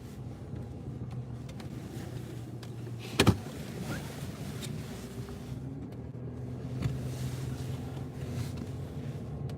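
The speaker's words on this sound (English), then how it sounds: "The car is still going." A car engine idles steadily nearby, a low continuous hum with a brief sharp knock partway through and faint background noise, no voices.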